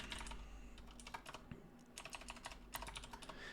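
Rapid clicking of computer keyboard keys in quick bursts with a brief pause midway, close and crisp, no talking.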